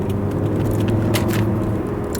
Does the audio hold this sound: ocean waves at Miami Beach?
no